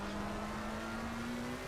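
A Jägermeister-liveried Porsche race car in a sim racing endurance game at Hungaroring, its engine holding a steady high drone for a brief moment, loud and close, with no voices.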